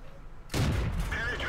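A tank gun fires in World of Tanks, the sudden loud blast cutting through quiet engine rumble and then ringing out in a long, broad reverberating tail.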